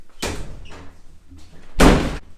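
Two heavy door slams in a quiet indoor space, each one a sharp, loud bang followed by a short decay, with faint movement and creaking between them and no voices.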